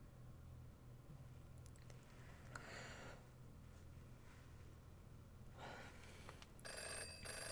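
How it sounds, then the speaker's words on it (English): A telephone rings in a visual novel video game, heard as a faint, steady electronic ring with repeated brighter bursts over low background hum, no voices. "Ring, ring, telephone."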